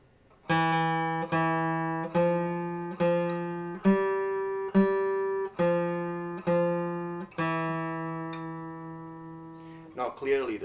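Classical guitar D string plucked with the thumb fingernail, a run of crisp, bright single notes with a sharp attack and ringing sustain, clear and close at a slow steady pace, followed by a brief voice at the end.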